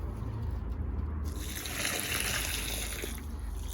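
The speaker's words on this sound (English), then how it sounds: "we're just watering those root balls" Water poured from a container onto the root balls of tomato plants being transplanted, a soft steady trickle and splash that swells after a quiet start and continues for a few seconds.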